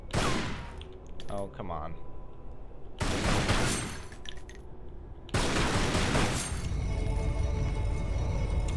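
Gunshots fired at a carving in Greece in the Tomb Raider Anniversary video game: three sharp, loud bursts, each followed by ringing in-game sound, with a player's voice briefly heard.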